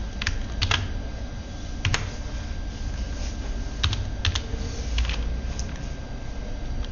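Steady clicking of keys on a computer keyboard, irregular bursts of individual keystrokes over a constant low hum of room noise, with no talking.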